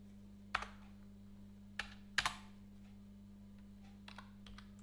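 Someone typing Python code on a computer keyboard: a few sparse, sharp key clicks and short bursts spaced apart over a steady low electrical hum, no talking.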